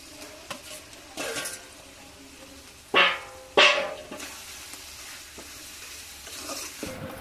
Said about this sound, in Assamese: এতিয়া এইফালে চিকেনখিনি ইয়াতে দি দিম